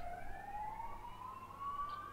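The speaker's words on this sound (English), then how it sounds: "Ambulance sounds." An ambulance siren drifts in faintly through an open window, a thin wailing tone sliding slowly upward and holding, distant and steady under low background hum.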